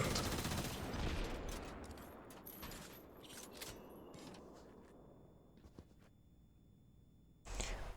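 Bursts of gunfire in a video game, a dense volley at first that thins into scattered cracks and fades, then a sharp loud burst near the end.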